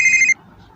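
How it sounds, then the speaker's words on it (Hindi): A phone rings with a bright electronic tone for a moment and then cuts off abruptly, leaving faint background sound. "तभी फ़ोन बजता है"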